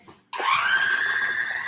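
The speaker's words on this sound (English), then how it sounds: "go ahead and just blend it" An electric kitchen blender kicks on abruptly after a brief quiet moment and whirs steadily at a high, even pitch while blending a sticky mixture, loud and close, with no voices over it.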